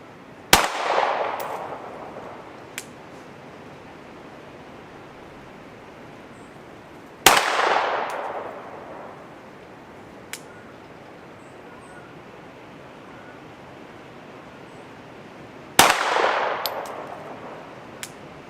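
Three separate pistol shots fired slow-fire at a silhouette target at 25 yards on an outdoor range, each a sharp, loud crack followed by a decaying echo, spaced several seconds apart, with faint distant pops in between.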